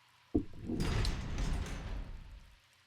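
A door opening in the Resident Evil Remake video game, heard as a sharp knock followed by a long, loud grinding slide that swells and then fades out over about two seconds, with no one talking.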